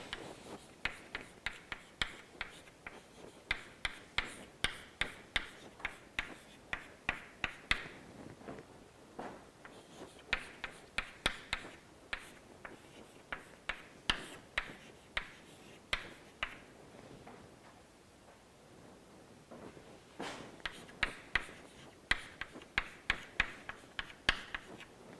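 Chalk or pen strikes a board during a lecture in rapid, rhythmic bursts of short taps and strokes, with brief pauses between runs; close and fairly quiet, with no talking.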